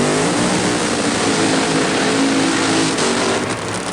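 Funny car drag racing at the 1986 NHRA US Nationals, a Chevy Cavalier-bodied car against an Oldsmobile Forenza, engines roaring loud and continuous with a harsh, sustained blast throughout.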